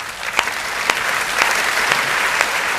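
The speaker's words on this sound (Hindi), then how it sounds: "एक बार तालियाँ बजा कर मुझे एहसास दिला दीजिए।" Audience clapping at a kavi sammelan, a Hindi-Urdu poetry recital in Indore, builds into sustained applause. Several sharper claps poke out of the dense, steady crowd sound.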